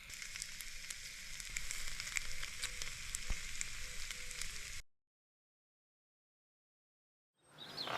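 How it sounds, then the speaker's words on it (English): Breakfast frying in a pan inside a campervan parked near Derwent Reservoir at Easter; a close, steady sizzle fills the first five seconds, then cuts to silence before the sizzle briefly returns at the end. "I was cooking us some breakfast before we headed out for the day"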